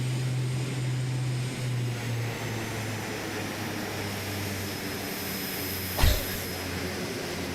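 A King Air 350 turboprop in Microsoft Flight Simulator 2020 roars steadily with its propellers in full reverse, a loud, constant engine drone with a low hum and one sharp thump near the end.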